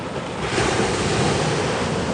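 Ocean surf washing steadily at Wrightsville Beach, North Carolina, a continuous broadband roar with some wind buffeting the microphone, no voices.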